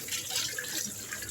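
Tap water runs steadily while a cup is washed by hand with light scrubbing, a continuous close splashing wash with no talk.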